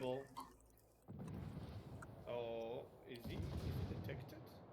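Warship guns firing in a World of Warships team league match, a low, heavy rumbling barrage that swells and holds through most of the clip, with a brief tonal burst in the middle and commentator talk over it.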